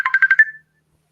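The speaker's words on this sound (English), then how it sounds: "That's my main phone." A phone ringtone sounds close and clear, a quick run of five bright electronic pulses that stop abruptly, leaving silence.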